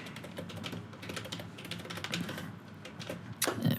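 Quiet, steady clicking of a computer keyboard being typed on, rapid irregular keystrokes close by, ending with a slightly louder clack.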